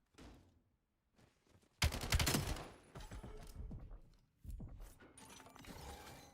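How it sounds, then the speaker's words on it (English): Bursts of gunfire in a competitive Call of Duty scrim, rapid automatic fire in several loud bursts separated by brief gaps, close and sharp. "Envoy shooting"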